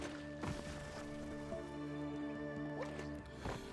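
A moose wades through water in the video game Biomutant, with soft dripping, sloshing and squishing splashes repeating steadily over a constant droning game backdrop, with no talk.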